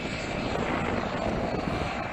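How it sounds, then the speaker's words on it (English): A military helicopter moves in during a live-fire aviation drill over water, a loud, steady rotor and engine roar filling the air without pause. "helicopter is turning on its lights"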